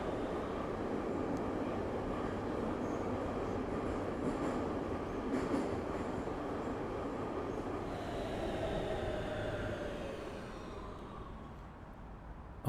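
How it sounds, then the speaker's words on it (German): A subway train ride in the video game Big Ambitions carries a steady, loud rumble of rolling wheels with faint metallic squeals, fading out toward the end with no talk. "Wir fahren U-Bahn."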